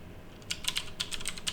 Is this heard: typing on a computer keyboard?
yes